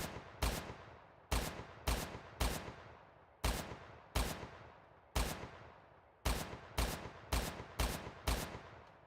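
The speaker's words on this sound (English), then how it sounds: "See how fast we can start shooting here." Rapid bursts of gunfire from a homemade video game, each shot a sharp crack with a short decaying tail, firing in uneven clusters that grow quicker toward the end, loud and alone.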